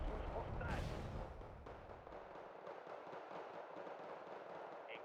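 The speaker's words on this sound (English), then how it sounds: "I think there's a T-72B firing" A T-72B tank fires in the video game Wargame: Red Dragon, a heavy booming blast at the start that rolls off into a long, dull rumble of battlefield noise.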